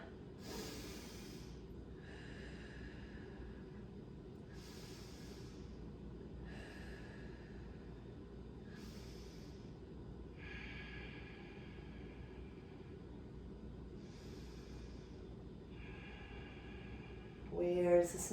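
Slow, steady breaths during a stretching exercise, about seven soft, airy inhales and exhales spaced evenly over a low steady hum, with a louder rustle at the end.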